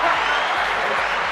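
A studio audience claps and cheers for a comedy talk show, a dense, steady wash of applause lasting a moment, full and close.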